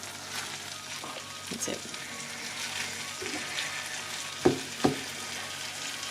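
Beef sizzles and fries steadily in a pan throughout, with a couple of sharp clinks or stirring knocks near the end and a brief spoken phrase.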